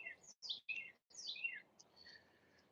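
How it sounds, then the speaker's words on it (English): Several birds chirp in a garden in quick, bright bursts of tweets and short calls, separated by brief pauses, fairly near and alone with no voices. "we had a lot of birds chirping right now"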